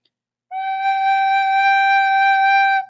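One clear recorder note G is held steadily for a couple of seconds, close and clean, with no other sounds.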